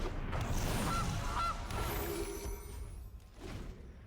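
Two short goose honks sound from the Goose card in Magic the Gathering Arena, set among game effect whooshes and soft thuds, with a faint later chime; no speech.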